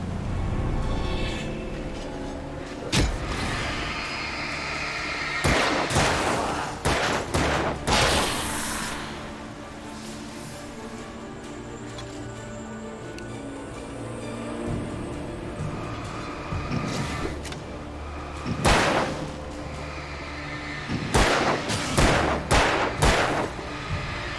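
Bursts of gunfire in a firefight from the video game Alan Wake, several loud clusters of shots and impacts spread across the clip over a continuous background rumble, with no talking.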